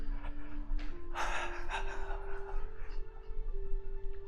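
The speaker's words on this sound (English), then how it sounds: "breathing out through your mouth." A person exhales through the mouth several times in slow, breathy puffs, close and fairly soft, over a low steady tone during a relaxation exercise at a church service.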